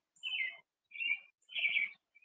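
Crows calling outdoors: three harsh, drawn-out caws spaced about half a second apart, fairly close and clear with no talking.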